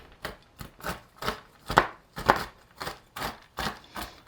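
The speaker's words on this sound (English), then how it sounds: "I'm just going to run my knife through them" A knife rocks through almonds on a cutting board, making about a dozen evenly spaced, crisp chopping thuds in a steady rhythm, close and clear with no talking.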